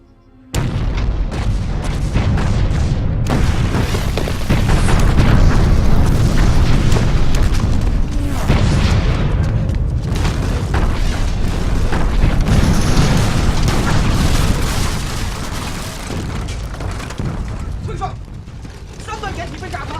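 Artillery shelling in a war film: heavy, continuous booming blasts and deep rumbling fill nearly the whole stretch, loud and dense, with voices faintly mixed into the din.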